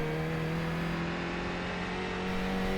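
A race car drives on a track with a steady, loud engine drone holding a constant pitch, continuous and close throughout with no voices.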